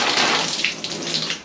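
Water gushes steadily from a Kohler Rite-Temp valve being flushed, a loud, continuous splashing rush at close range with no voices.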